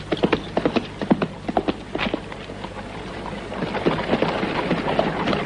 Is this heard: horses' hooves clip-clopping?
yes